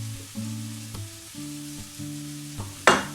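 Beetroot leaves sizzle and fry in a hot pan as they are cooked for an omelette, a steady frying hiss under a sustained tonal background, with a brief louder sizzling burst near the end.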